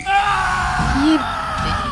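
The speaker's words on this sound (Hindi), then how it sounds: "लेकिन कुछ ही पलों के बाद एक खौफनाक चीख गूंज उठी।" A frightening scream rings out at night, a loud strained voice rising and wavering over a couple of seconds, with a brief yelled pitch sweep in the middle.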